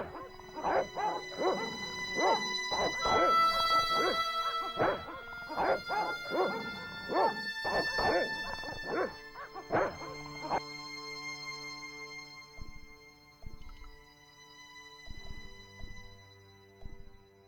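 Dogs in the Spain section of the video game Broken Sword: Shadow of the Templars bark repeatedly in loud, close bursts and then whimper and yip, with the barking thinning out toward the end.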